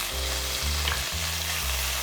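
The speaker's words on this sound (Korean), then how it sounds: "이 냉이 줄기 부분을 넣어서 볶다가 볶아주고" Shepherd's purse stems sizzle steadily in an oiled pan as they are stir-fried for an oil pasta, with a loud continuous frying hiss and a few soft stirring scrapes.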